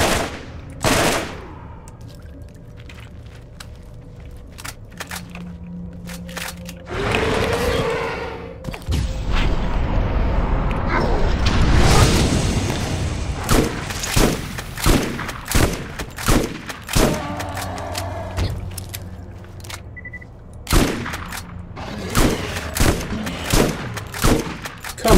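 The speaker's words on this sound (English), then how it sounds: "Come on, a Dahl shotgun with barrel 3 should be able to make that distance" Gunfire in Borderlands as a player works a Dahl shotgun fitted with barrel 3: rapid cracks and booms in irregular bursts, loud and close, with a dense run of shots over rumbling battle noise in the middle stretch.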